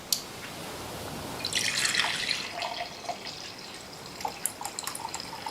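Hot water pours into a large freshly washed mug, a soft splashing stream that builds, fades, and ends in a few scattered drips, close and fairly quiet with no talking.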